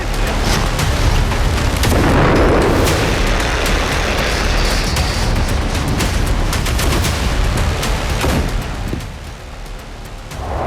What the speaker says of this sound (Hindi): पुतिन का प्रतिशोध, यूक्रेन में विस्फोट